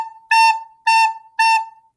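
Recorder sounding a sustained A note in a music lesson, three clear tongued notes of equal length with a faint steady tone linking them, close and alone with no talk.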